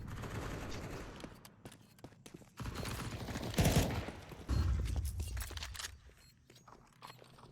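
Counter-Strike gunfire during a competitive match, a dense clatter of shots and mechanical clicks with footsteps, rising in loud bursts then fading into scattered ticks.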